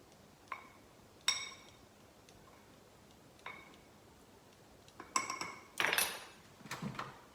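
Flour, baking soda and cinnamon stirred together in a bowl, sparse clinks and taps of a utensil against the bowl spaced across the stretch, with a quick burst of scraping and clatter near the end, quiet and close.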